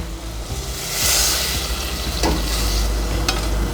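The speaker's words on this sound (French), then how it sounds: "je rajoute mon fond de veau à peu près aux 3/4 de ma paupiette" Veal stock poured over veal paupiettes in a pan gives a loud, steady sizzle and bubbling simmer, close by, with some stirring and no voices.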